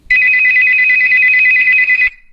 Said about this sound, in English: It started with a phone call, a sharp, sudden ringing that cut through the silence of her small apartment